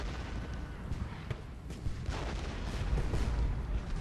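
Artillery firing in Ultimate General: Gettysburg, a few sharp cannon reports and deep booms scattered over a rumbling battle bed, with a faint voice underneath.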